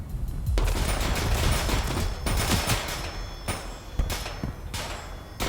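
Sustained bursts of gunfire from the video game Transience, loud and dense, with rapid shots clustering into volleys separated by brief gaps and sharp heavier reports throughout.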